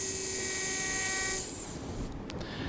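3.5 mm taper drill boring for dental implant placement, a thin high whine held steady then cutting off, followed by softer hiss and brief clicks, quiet and close.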